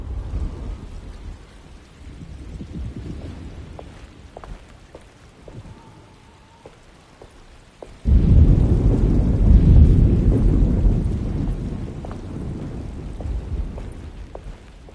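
Storm ambience from the Alone in the Dark video game: steady rain with a low rolling rumble of thunder, swelling into a loud, close burst of heavy rain and thunder about halfway through, then easing slightly.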